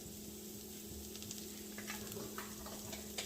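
About two tablespoons of butter sizzle in a hot pan with oil, a steady close hiss and crackle with scattered small pops and a faint low hum underneath.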